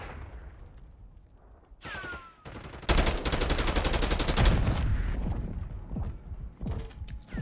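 A grenade launcher fires in the shooter Black Ops 6, followed by a loud sustained burst of gunfire and explosive rattle, then scattered shots and mechanical clatter as it fades.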